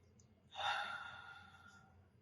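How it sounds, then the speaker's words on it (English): A single big deep breath drawn in and slowly released during a spiritual gathering, a soft close airy sigh that rises suddenly and fades over about a second and a half. "We take a big deep breath."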